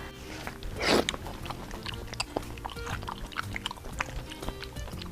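Close, wet biting and chewing of boneless pig's trotter and pork skin roll, with one louder crunchy bite near the start followed by steady soft mouth sounds, and no talking.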